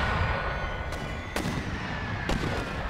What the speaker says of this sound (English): So we got 4 mortar crews here. So 20 mortars firing.